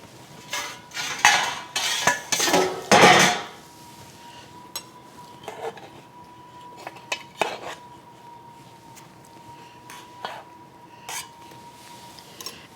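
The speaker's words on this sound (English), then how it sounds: "I'm going to turn these out of the pan so they don't get over-steamed." Kamut dinner rolls knocked out of a baking pan in the kitchen: a burst of loud metallic clatter and thumps early on, then scattered lighter taps and clinks with a faint steady hum behind.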